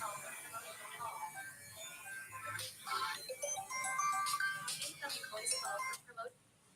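A mobile phone ringtone chimes in a classroom, a bright repeating melodic pattern rising over murmuring voices and room noise before cutting off abruptly near the end.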